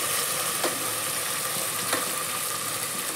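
Carrot and potato pieces fry in hot oil for a vegetable biryani, giving a steady, close, even sizzle throughout with a couple of faint clicks and no voices.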